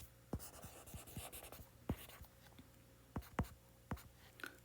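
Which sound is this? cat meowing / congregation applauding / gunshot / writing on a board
writing on a board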